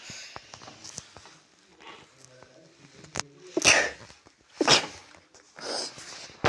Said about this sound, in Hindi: जुकाम हो गया, इस वजह से छींक आ गई।